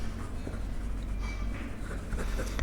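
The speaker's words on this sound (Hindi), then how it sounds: "तो मैं इसको लिखता हूँ क्वेश्चन नंबर 3" Chalk or marker scratches on a classroom board as a maths question is written, a series of short, close scraping strokes with brief pauses between them.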